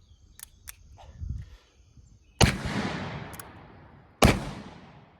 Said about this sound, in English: So I'm going to fire a few rounds